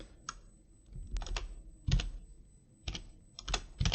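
Rapid typing on a computer keyboard during a tabletop game session, close and crisp, with bursts of key clicks and a few heavier strokes spread irregularly across the span, no voices.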